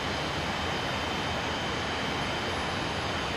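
Engines of a Dornier Do 31 jet transport in Microsoft Flight Simulator 2020 drone as a steady, dense roar. It is loud and unbroken, heard alone with no talk.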